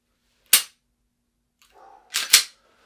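Two sharp pistol shots crack out at a shooting range, one alone and then a second after a pause and a faint clatter, loud and close.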